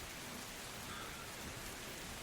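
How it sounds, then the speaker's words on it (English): Steady rain falls in an even, dense hiss, quiet and unbroken throughout with no voices over it. "I see that there's rain."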